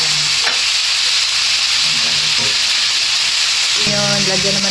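Chopsuey vegetables stirred in a frying pan, a loud continuous close sizzle and hiss with utensil scrapes, and a voice speaking briefly underneath.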